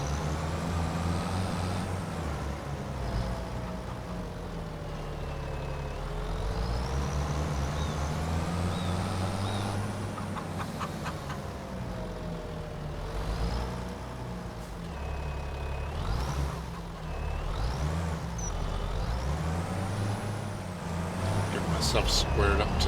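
Truck backing up to a trailer in Farming Simulator 25, a steady low engine drone with shifting tones and occasional air-brake hisses and beeps, continuous and fairly loud.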